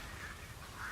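Two soft, brief quacks from World of Warcraft ducklings sound faintly over a low background hum.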